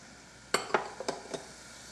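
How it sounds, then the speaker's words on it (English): Chopped fresh parsley being stirred into a simmering sauce, a few quick clinks and scrapes of a utensil against the pan in a short burst, close and fairly quiet over a faint background. "And I stir."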